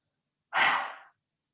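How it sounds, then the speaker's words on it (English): A single forceful exhale through a wide-open mouth with the tongue stuck out during a yoga face exercise: one short, breathy rush of air, close and fairly soft, rising fast and trailing off within about half a second. "open the eyes, open the mouth, stick out the tongue and exhale"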